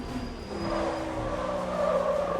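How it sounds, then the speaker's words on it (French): Tyres locking and squealing under hard braking in the racing sim Le Mans Ultimate, a sustained tonal screech over engine noise lasting a couple of seconds. "on vient de faire un beau blocage de roue des familles"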